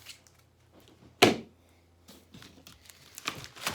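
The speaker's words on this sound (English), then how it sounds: "Cut the excess off of here." Tile mesh being cut away from a scribed tile medallion, with one loud sharp snip followed by quieter rustling and crinkling of the mesh in a quiet room.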